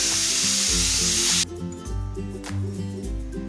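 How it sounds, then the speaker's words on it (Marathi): Ghol leaf vegetable is sautéed briefly in a pan, giving a loud, dense hiss for just over a second before it cuts off, with steady background music underneath throughout. "साधारण एक दोन सेकंद ही भाजी आपल्याला इथे परतून घ्यायची आहे"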